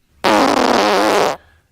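A soundboard fart effect called Kapoom blares out as one loud, sustained, buzzing blast of just over a second, starting abruptly and cutting off cleanly, with nothing else around it.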